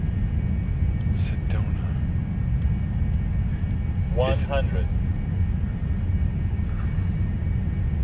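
Steady, loud low-pitched engine drone fills the cockpit of a Cessna Citation S550 jet in flight, a constant roar that never lets up, with brief speech heard over it.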